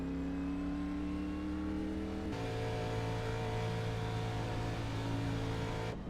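Simulated stock car engine from a K&N West Series sim race, droning loud and steady with sustained harmonic whine, shifting pitch abruptly partway as the car restarts and keeps going, no voices.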